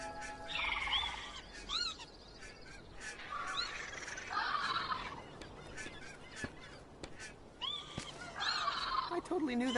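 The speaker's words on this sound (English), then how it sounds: "I totally knew that little bird was ready to hatch" A newly hatched little bird in the adventure game Broken Age gives high, rising chirps and honk-like squawks in bursts, interrupted by clicks over a steady low background hum, moderately loud.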